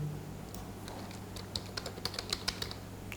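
Quick taps on a computer keyboard, sparse at first and then a brisk run of crisp, close keystrokes toward the end, with no talk.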